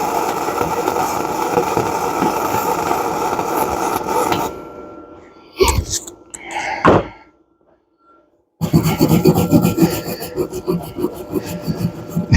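Stiff wire brush rasping over a flux-core weld bead on steel, a loud steady scrubbing stretch, then a few short separate strokes and a pause before vigorous brushing resumes, close up and with no talk.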